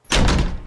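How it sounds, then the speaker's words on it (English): A door slammed shut, one heavy close thud with a sharp attack and a short fading tail, loud and near. "Slams his door shut without warning."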